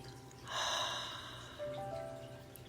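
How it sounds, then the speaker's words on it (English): A single soft, slow exhale during a guided deep-breathing exercise, breathy and close, swelling briefly then fading under a faint background hum. "and exhale"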